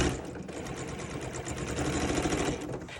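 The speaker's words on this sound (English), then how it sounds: "And I'll back stitch at the very end here" A sewing machine back stitches at the end of an apron seam, a steady close mechanical whirring and rapid needle chatter running continuously, with no talk.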